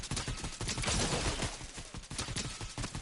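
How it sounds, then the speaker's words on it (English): A turret in Fortnite fires on the player in a dense, continuous volley of rapid shots that stays loud and sustained throughout, with no voices. "it's his turret."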